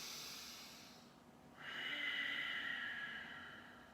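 A slow, steady exhale through the nose or mouth during seated chair yoga, a soft airy hiss that swells after a brief pause and then gradually fades, close and quiet.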